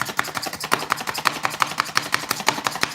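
A knife chops corn on a cutting board for Mexican corn salad: fast, steady, loud chopping strokes repeated evenly, close up, with no talking.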